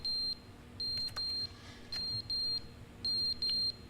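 Fire alarm in the video game The Stanley Parable, sounding as repeated sharp electronic beeps in short bursts, mostly paired, at an even, insistent rhythm with faint background noise.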